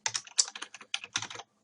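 Fingers type on a computer keyboard in a quick, uneven patter of close key clicks lasting about a second and a half, then stop, with no talking.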